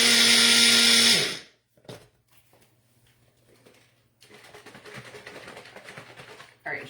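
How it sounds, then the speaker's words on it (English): A blender whirs loudly for about a second while mixing salad dressing for a southwest chicken salad, then cuts out abruptly, leaving quiet handling noises and a low hum. "One more blend."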